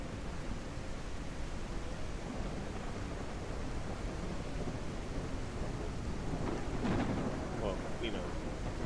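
Thunder from lightning strikes in a video game fire-propagation test rolls steadily beneath rain-like noise, with a brighter crack swelling near the end; faint and distant overall.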